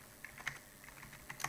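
Quiet, irregular keystrokes on a computer keyboard, a brief scatter of light clicks ending in a slightly firmer tap, with no voice over them.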